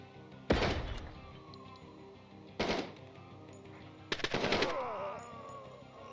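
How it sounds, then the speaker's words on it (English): Three sharp gunshot bursts from the tactical shooter Door Kickers 2 ring out about two seconds apart, the last a quick double volley, each followed by a fading echo over a quiet background. "Heard some more shots."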